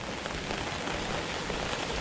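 Steady autumn rain falls in Toronto, a dense, even hiss of drops on surfaces that is loud, close and constant throughout, with no voices.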